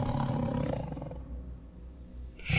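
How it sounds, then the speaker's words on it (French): A deep, sustained bear roar rumbles loud and heavy from outside, fading midway before swelling back up near the end, played as a sound effect during a tabletop horror role-playing game set in snow. "Je crois qu'il y a notre ours dehors là."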